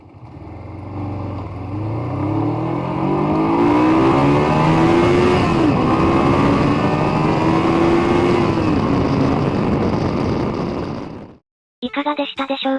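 A Honda CB125T motorcycle, back on the road after restoration, revs hard through first and second gear to about 11,000 rpm, its engine note climbing loud and close, dipping at the shift, then cutting off abruptly.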